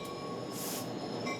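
Long Island Rail Road commuter train rolling past close by, a steady loud rumble of wheels on rails with a metallic squeal and hiss rising midway, no voices.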